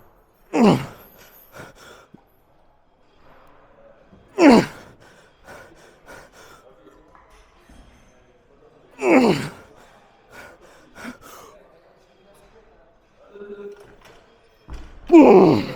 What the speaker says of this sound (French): Respiration lente pour essayer de faire redescendre ce BPM